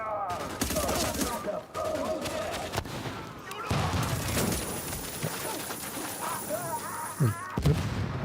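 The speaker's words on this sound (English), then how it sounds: "Wait, who's shooting me?" Dense gunfire in The Division, a rapid unbroken fusillade of rifle shots and booms aimed at the player, loud and continuous throughout with game ambience.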